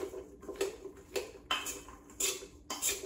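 A metal spoon tosses carrot fries in their coating inside a bowl, giving repeated clinking, scraping strokes in an uneven rhythm, close and fairly loud with no talking.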